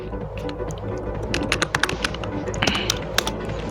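Quick keystrokes clatter on a computer keyboard while commands for a Samba file server are typed on Debian 9. The clicks are close and steady, with a denser burst of taps near the end.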